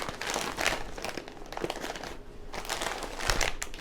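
A bag of Fritos corn chips is torn and split open up close, giving a long run of loud, dense crinkling and crunching of the plastic wrapper with no talking.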